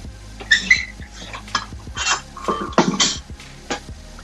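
A cast iron pan being handled on a stovetop while making a curry-flavored veggie burger: several clanks, scrapes and light metallic knocks, close and fairly loud, in an irregular sequence with no speech.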